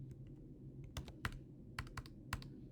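Quick bursts of typing on a computer keyboard, several sharp key clicks in irregular clusters, close and fairly quiet against a steady room hum, no voices.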